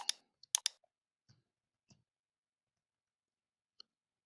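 Sparse computer mouse clicks while a web sign-up form is filled in, a quick cluster of sharp clicks at the start, then a few isolated single clicks spread out across near silence.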